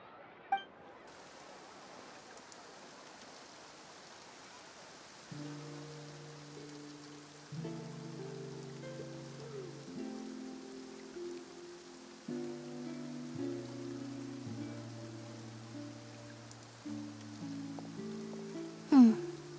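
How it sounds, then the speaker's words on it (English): Soft, even rainfall in a Genshin Impact cutscene in Fontaine, a gentle continuous hiss beneath a calm musical score of sustained tones, with a few faint clinks. "Looks like rain."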